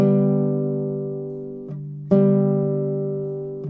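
G string plucked on a 7-string Russian guitar, twice: a clear sustained tone that rings and slowly decays, then is struck again and rings on alone.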